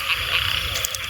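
Frogs croaking loudly and continuously at night in a rural Thai field during frog hunting, a dense rapid chorus of rasping calls close by with no pauses.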